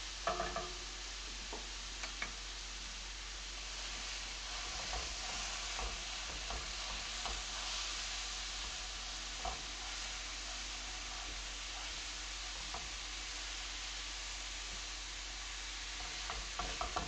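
Ground meat sizzles and fries steadily in a hot pan as its fat renders out, a continuous close crackle with occasional sharper pops and scrapes of stirring, and no voices.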